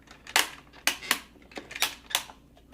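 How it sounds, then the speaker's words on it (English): A plastic ratchet inside a Dragon Ball Saiyan space pod toy clicks in a series of sharp, close snaps, about eight irregular clicks, with no talk over them. "you can hear that ratchet inside there"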